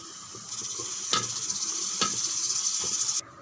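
Cashews and raisins sizzle steadily as they temper in hot ghee for sweet pongal, a bright continuous frying hiss with a few louder stirring bursts, close and alone, cutting off abruptly near the end.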